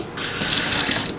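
Water running from a tap in a home with a newly installed shower, a loud close hiss of flowing water that swells briefly and stays steady.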